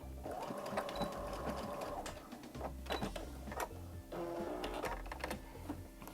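A sewing machine stitches the arms of a small fabric pocket bunny in close, steady bursts of rapid mechanical whirring, pausing briefly between runs, with clicks and handling of the fabric.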